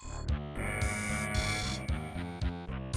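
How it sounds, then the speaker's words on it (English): Loud alarms blare in System Shock, a harsh repeating buzzer-like tone that rises and falls in regular pulses and carries on without a break the whole time. "now we have this really cool thing where the alarms are going to be blaring the whole time, being super loud and obnoxious"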